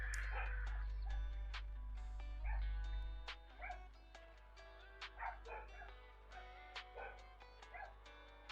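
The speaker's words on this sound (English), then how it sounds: "I think the dogs are barking at the postman." Dogs barking at a postman, heard from indoors as repeated yips and barks with some whimpering, moderately faint, over a steady low hum.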